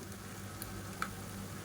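Blended tomato purée sizzles steadily in hot oil while chicken biryani gravy is cooked, a continuous close frying hiss with one brief sharper crackle partway through and no talking.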